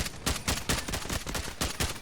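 Pistol shots fired in the Delta Force video game, a rapid string of sharp reports at a steady rhythm, loud and close with no talking.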